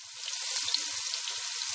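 Onions sizzling in a little oil in a pan while cooking an Ethiopian dish, a steady close crackling fry with faint scattered pops, no voices.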